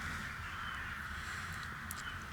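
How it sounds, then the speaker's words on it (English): Crows or ravens cawing among trees, a steady harsh calling held under a constant broad background of outdoor noise, with no talking. "I think there are some crows, or raven even"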